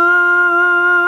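A single sustained piano note, the fifth of B flat, played in a Kompa piano lesson, ringing steadily and alone for about a second with no decay or other sounds.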